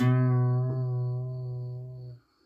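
A single plucked acoustic guitar A-string note, bent at the second fret, rings out with a slight pitch bend, sustaining cleanly and fading out after about two seconds.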